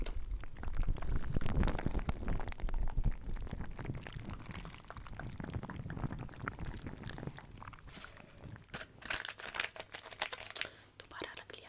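Leftover water being poured back into a container during a spa treatment, a soft, close trickle with crinkling, while a voice whispers over it.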